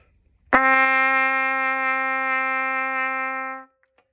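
A single sustained trumpet note D, steady and clear, held for about three seconds before stopping cleanly; no other sound.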